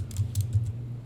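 Computer keyboard typing, a short quick burst of several close keystrokes in an even rhythm without any voice.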